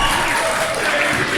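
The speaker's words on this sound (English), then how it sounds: "That is a happy crowd." A wrestling crowd cheers and applauds at a live show, a steady loud roar of clapping and shouting filling the space without a break.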